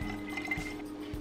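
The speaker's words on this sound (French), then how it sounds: "Remplissez d'eau le reste de votre vaporisateur" Water trickles softly into a plastic spray bottle, a faint, quiet pour with a few light clunks against the bottle.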